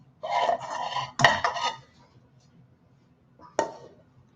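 Metal utensil scraping and clanking against a pan while bacon is stirred into pasta carbonara at home: two bursts of scraping and a sharp knock, then a pause and one more clack.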